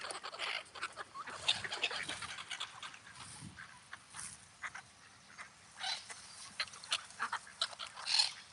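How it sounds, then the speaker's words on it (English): Ducks being fed outdoors, with soft intermittent quacks and bill-dabbling, shuffling and splashy feeding noises at close range and fairly low level. "Trying to feed the duck, but he's standing in front trying to intercept."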